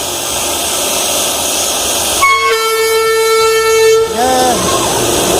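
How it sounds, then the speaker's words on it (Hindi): A train pulls into Ayodhya Junction station, and a long, loud horn blast sounds over the rumble of the rail cars, followed by a short fading toot. The station is noisy and the train is fairly close. "ट्रेन देखिए, ट्रेन आ रही है"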